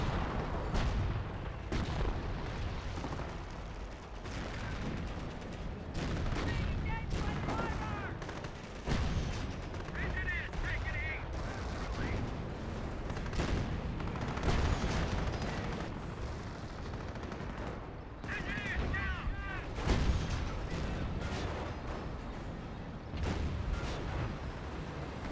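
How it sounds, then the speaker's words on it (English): Artillery barrage in Company of Heroes, a dense run of booming shell impacts and gunfire rolling on continuously at steady loudness, layered with busy battle noise and no clear talk. "Warfare Barrage running on in."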